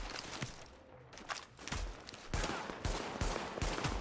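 Pistol shots in Tom Clancy's The Division, a series of sharp cracks spaced roughly half a second apart amid a busy background of gunfire and game noise.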